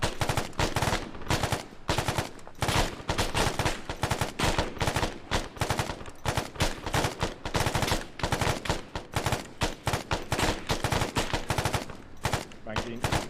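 Sustained automatic gunfire during an attack in Iraq, rapid bursts of cover fire rattling loud and continuous for the whole span, with overlapping shots and no pauses.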